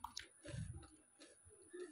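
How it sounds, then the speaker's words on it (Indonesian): Crispy fried chicken kremesan crumbs being chewed close up: a few soft, crunchy bites and squishy mouth sounds at a quiet level, with no talking. "ini kalian bisa dengar sendiri ya, aku saat mencoba kremesannya ini benar-benar enak banget, renyah"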